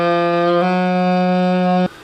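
A saxophone sustains a D sharp, also called E flat, as one steady, loud held note with a slight shift partway through, then cuts off abruptly near the end.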